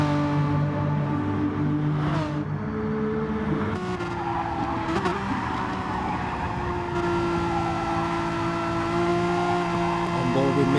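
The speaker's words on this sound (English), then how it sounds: "you can just hear those tyres going" Race cars in a sim racing community series lapping with tyres squealing, engines droning and shifting pitch while screeching tyre scrub rises and falls over the constant motor noise, loud and close.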